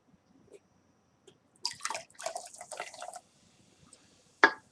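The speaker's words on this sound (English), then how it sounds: "That means pouring soda, okay?" Soda pours in short bursts of splashing and fizzing liquid, separated by quiet gaps, with a final sharp splash at the close.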